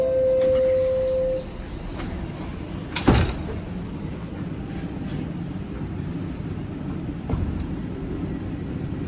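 Subway train doors sliding shut on a Toronto TTC Line 1 car, a single sharp clunk standing out over steady rumbling cabin noise after a chime fades, followed by a softer thud a few seconds later.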